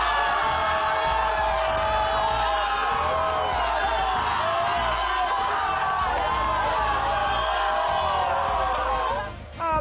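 Fans packed into a bar watching Brazil at the World Cup roar and whoop continuously after a goal, a dense, loud crowd cheer with overlapping shouts and voices throughout.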